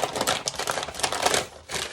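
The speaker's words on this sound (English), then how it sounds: "wrap it up in the freezer paper" Wild game meat is wrapped tightly in freezer paper, making continuous crinkling and rustling with sharp paper crackles, close up and fairly quiet.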